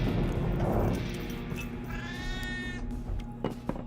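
A pet cat in a detective video game gives a meow with a rising, wavering cry partway through, heard over a constant low background hum, with a couple of short knocks near the end.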